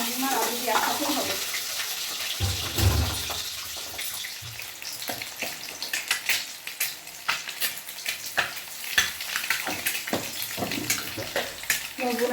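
Eggs sizzle and fry in a pan with salt and turmeric, a continuous crackling hiss with occasional stirring and scraping knocks, heard close without any talking.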